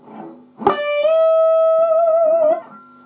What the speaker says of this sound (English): this starts off with a tone bend from a D note on the B string,